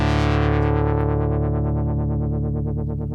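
A Vongon Replay synthesizer holds one sustained, bright note that starts steady and gradually develops a delayed LFO wobble, with rhythmic pulsing fading in and growing as the note rings out, loud and alone.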